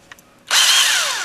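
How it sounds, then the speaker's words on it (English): An old drill spins up sharply after a faint click, boring into the heel of a pewter miniature with a loud, high whine that slowly drops in pitch as it bites, close and alone. "drill here, and I'll drill into the heel"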